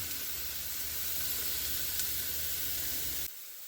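Meat for street tacos frying in a pan with olive oil: a steady, close sizzling hiss that runs evenly for a few seconds and then stops abruptly.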